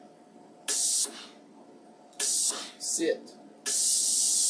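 A steam iron pressing a sewn quilt block releases three loud bursts of hissing steam, the last one sustained, while someone speaks briefly in between.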